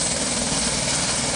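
A helicopter sound effect plays as a computer system alert on Ubuntu, a loud continuous rotor roar that fills the whole moment with no pause.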